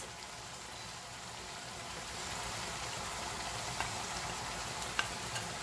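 Coarsely ground coriander seeds, fennel seed powder and cumin sizzle steadily in a hot pan of oil, a continuous frying hiss with a couple of small pops and stirring clicks, no talk.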